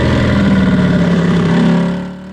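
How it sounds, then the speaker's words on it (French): A KTM RC 8C racing motorcycle's exhaust roars loud and close in a sustained high-rev drone during a race, its steady pitch holding then easing off and fading near the end. "Vous avez peut-être entendu là le bruit du pot"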